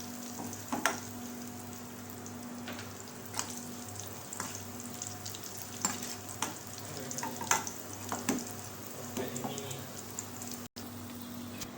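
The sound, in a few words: curry leaves frying for tempering (tadka) in oil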